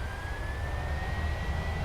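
Jet engines of a PMDG 737-900ER in Microsoft Flight Simulator spool up in a loud, steady roar, with a thin high whine slowly climbing in pitch over about two seconds.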